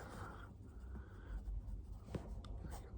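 Pen scratching across paper in soft, steady strokes, close and quiet, with a few brief louder scrapes and no talking.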